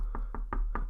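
Four crisp knocks on wood come in a quick, slightly uneven rhythm, close and fairly quiet with no voices.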